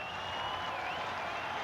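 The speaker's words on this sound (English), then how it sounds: "Ralph Houk is being cheered by this entire crowd" Crowd at Fenway Park cheering and applauding as Boston Red Sox manager Ralph Houk is introduced before a 1981 game against the Chicago White Sox, a steady roar filling the whole stretch, with a faint whistle-like tone riding above it.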